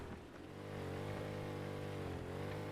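A boat engine in the survival game Rust starts and runs steadily, a droning motor hum that swells after half a second and holds loud and even as the boat drives toward a boat house entrance.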